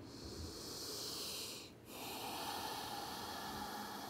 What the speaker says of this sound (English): Take a deep inhale and let them all go with your exhale